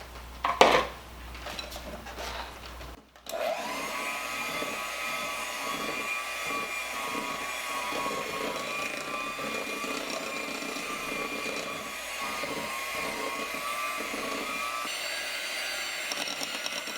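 A steady, continuous whir of a mixer churning homemade Mississippi mud brownie batter with flour runs for most of the stretch after a few clinks and a short pause at the start, loud and close with no talking.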